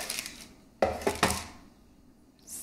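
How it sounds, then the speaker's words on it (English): A salted trout fillet set down onto a baking dish, a few close, sharp clinks and taps against the dish in quick succession, with no talking. "And then I'm gonna place it onto the baking dish."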